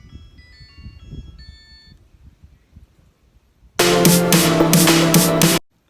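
A phone ringtone rings, with faint melodic tones at first, then a loud burst of bright chiming tune for about two seconds before cutting off, with no talk.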